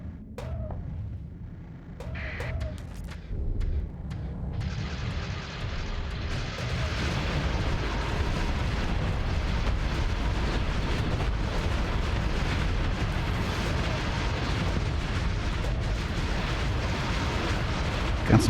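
Long range lasers fire in Starsector space combat, producing a dense, continuous roar of booming bursts and rumbling blasts that builds and holds steady throughout.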